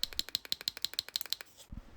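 Tact switch clicks from the trigger of a DIY SteamVR 6DoF VR controller, about ten quick, crisp, close clicks in a steady rhythm, followed by a soft low thump.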